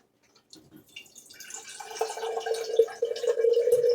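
Filtered water from a Berkey gravity filter pours in a steady trickling stream, starting faint and growing fuller and louder as it runs.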